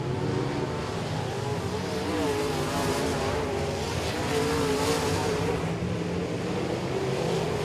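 Race cars roaring around the Boothill Speedway oval at night during the Billy Melton Memorial, a loud sustained engine drone with pitch shifts as cars pass and accelerate, steady and dense throughout with no talk.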